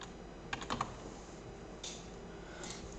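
Quick keystrokes on a computer keyboard while writing game code, a short cluster of close clicks followed by a couple of softer taps over steady background hiss, with no voice.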